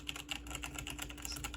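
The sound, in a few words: typing on a wired Logitech G810 keyboard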